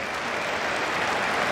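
A cricket crowd at an England vs Pakistan ODI applauds Stokes's six heaved over mid-wicket into the middle tier, producing dense, sustained clapping that fills the space evenly throughout.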